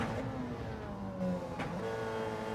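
A race car engine in the iRacing sim holds a steady, continuous drone, shifting pitch slightly as it pulls at speed, loud and alone with no talk.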